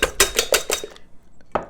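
Eggs for an omelette are whisked briskly in a bowl, giving a fast run of clinking strokes of utensil against dish. A pause follows, then one last clink, all close by with no talking.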